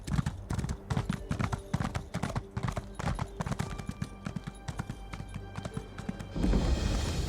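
A horse's hooves clip-clop in a brisk, steady rhythm while it is ridden through the desert in Elder Scrolls Online, close and continuous with a brief rush of sandy noise at the end.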